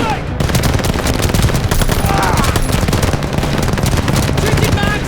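Tower-mounted machine gun in Call of Duty Vanguard hammers out dense, sustained automatic bursts for the whole stretch, loud and close, with other gunfire mixed in and shouted voices beneath.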